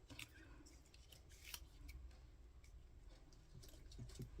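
Scissors snip through paper to cut out a small paper flower, making faint, irregular crisp clicks and snips in a quiet room with no speech.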